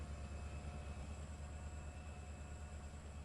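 A Canadian National locomotive in Trainz Simulator 3 rolls along on the CN Holly Sub, a steady, dense rumble of engine and rail noise holding at an even level throughout, with a faint high tonal whine above it and no talk.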